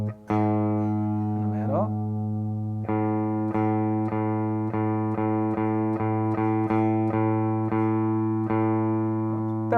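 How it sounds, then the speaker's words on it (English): A guitar string fretted at the fifth fret rings out repeatedly over a steady sustained reference tone, each pluck sharp and close with a long, even decay, and a brief murmur of speech near the start. "You also can try playing at the 5th fret in the way that we turn by ear, just to hear how it sounds."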